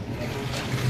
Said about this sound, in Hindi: कपड़े धुल रहे हैं।